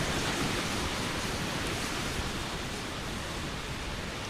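Falcon 9 rocket engines roar during ascent after liftoff from Cape Canaveral, a steady, dense, broadband rushing rumble with no breaks, heard from a distance.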